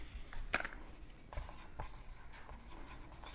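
Pen writing on paper as a Class 10 maths division step is worked out, light scratchy strokes with a few sharper ticks, soft and close against a quiet room.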